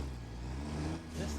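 Tractor engine in the video game Satisfactory, a low steady rumbling drone with a slight dip and swell, moderately quiet, with faint speech-like sound mixed in.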